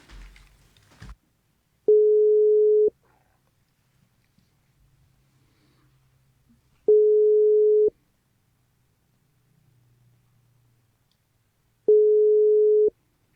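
Telephone call placed to reach a guest, ringing alone in three identical steady tones of about a second each, spaced roughly five seconds apart, after a brief noise at the start.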